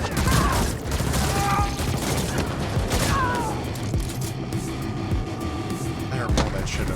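Gunfire in the video game The Ascent, a steady rapid stream of shots that stays close and dense throughout, with mechanical clatter beneath it.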